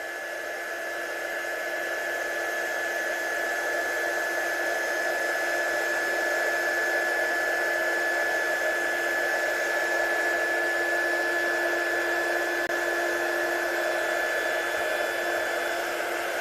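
A heat embossing tool blows steadily from underneath a card coated in chunky embossing powder, a loud, constant whirring hiss with a fixed whine that runs unbroken throughout.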